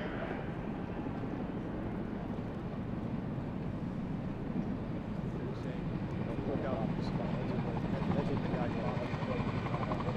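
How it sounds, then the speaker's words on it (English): A helicopter flies low over a line of special operations personnel during a capabilities demonstration beside Tampa General Hospital, dragging an aluminum caving ladder. A continuous, loud, rumbling rotor drone holds steady for the whole stretch. "The helicopter will fly low, drop out and drag an aluminum caving ladder and fly down the line"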